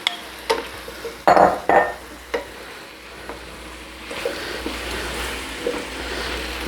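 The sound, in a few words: sauteed potatoes being stirred back into a pot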